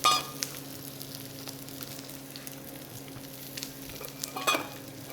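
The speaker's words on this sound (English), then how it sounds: "Nice hot pan for the scallop." Scallops sear in a hot pan with a steady, close sizzle and crackle, punctuated by a sharp hiss at the start and a flare of spitting near the end.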